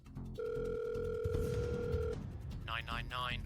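A telephone line on a 999 emergency call gives a steady electronic tone for nearly two seconds, partly overlapped by a second tone, over low background rumble, with a voice speaking near the end.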